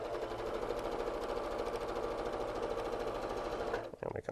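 A sewing machine runs continuously at speed, stitching quilt pieces with a quarter-inch seam. Its motor hums with a rapid needle chatter, close and steady, before it stops abruptly and a few soft handling clicks follow.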